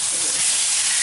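Steaks laid onto a hot pan sear with a steady, loud sizzling hiss that holds evenly for the whole second, with no voices over it.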